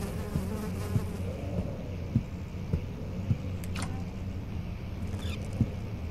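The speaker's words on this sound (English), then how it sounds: "Now can these flies stop buzzing in my ears?" Flies buzzing in the horror video game Amnesia: The Dark Descent, a steady, droning insect hum that continues throughout, with faint soft thuds beneath it and no speech.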